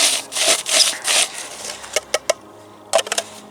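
A hand crusher grinds carp bait pellets into dust with a harsh, rasping churn. The grinding is continuous at first, then breaks into a few sharp clicks and scrapes near the end, with no voices.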